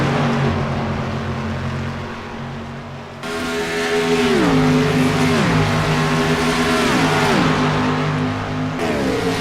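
Race cars at Charlotte, the 33 car among them, roar past loud and close with a steady engine drone, then a series of repeated downshifts and upshifts as they work through a corner.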